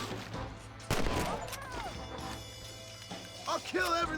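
Gunfire in a Red Dead Redemption shootout: a few sharp shots cutting through game ambience, with a voice talking over parts of it.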